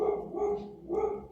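Pet dogs bark at a neighbor's cat, two quick nearby barks in a row, loud and clear with no talking.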